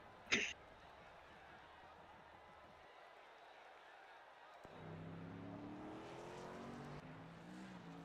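Race truck engine droning on a short track during qualifying at a Bluegrass Truck Series event, a steady distant roar that swells louder toward the end with rising revs, a sharp bang near the start, and a voice talking over it.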